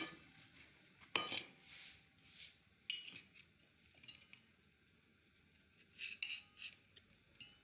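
Grilled barbecue skewers lifted off onto a plate, with sparse metallic clinks and scrapes of skewers against dishware, a sharp clank near the start and a cluster of clinks later, quiet otherwise.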